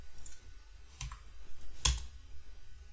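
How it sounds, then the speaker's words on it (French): A few sparse clicks of a computer keyboard as a command is typed, quiet and close, with three distinct taps spaced across a short stretch of near silence. "on tape la même commande d'import"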